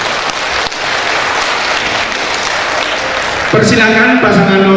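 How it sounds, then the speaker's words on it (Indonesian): Applause from an audience at a 2015 Dumai mayoral candidate public debate rises as a steady clatter of clapping under a speaking voice, swelling louder toward the end. "kita berikan aplaus untuk kedua pasangan ini"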